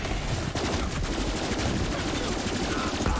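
Rapid automatic bursts from the Hell Shock gun in Borderlands 3, played as Zane on Mayhem 4, crackle in a dense stream of shots mixed with game effects, loud and close throughout.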